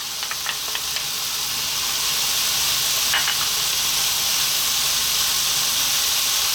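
Tomato and tomato paste sizzle in a pan, a loud steady broadband hiss with a few faint clicks and pops near the start, continuous and with no talking.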